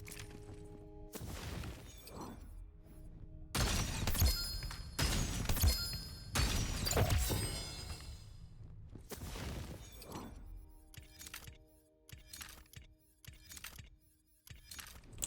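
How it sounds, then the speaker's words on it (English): Antique great bows firing and shattering in a video game, a series of loud crunching breaks and thuds, some clustered in quick bursts and others spaced apart, with quieter gaps between. "I am shooting antique great bows. They break after you fire them once."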